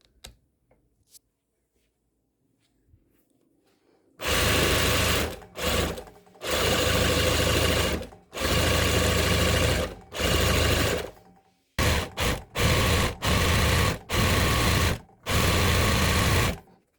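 Zigzag sewing machine stitching a cord (cordon) bag, starting after a few quiet seconds and running loud and close in several long bursts separated by brief pauses.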